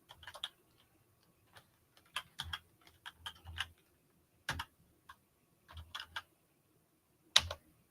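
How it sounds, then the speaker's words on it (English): Quiet, sparse computer keyboard keystrokes come in small irregular clusters of sharp ticks separated by pauses, close-miked and otherwise silent. "I'm gonna type it in here"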